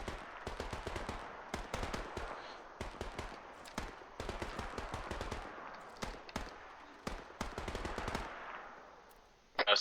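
Machine gun fire from a gunner seat in a video game rattles in long, rapid bursts with short pauses between them, loud and close, ending in a sharp louder crack.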